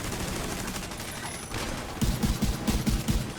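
Gunfire in the video game The Division 2 arrives as a rapid run of punchy shots in the second half, over a steady wash of game ambience.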